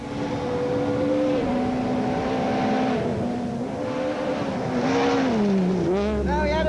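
A Castrol Toyota Auris rally car on a rally stage engine roaring loudly and steadily, revs dipping and climbing as it accelerates, with a brief tire squeal and drop near the end.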